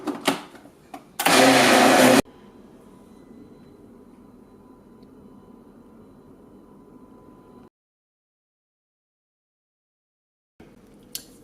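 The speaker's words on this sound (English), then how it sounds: "And then I'm going to blend all the ingredients." An electric blender whirs loudly for about a second while blending jollof rice ingredients, then stops, leaving a low hum and later near silence.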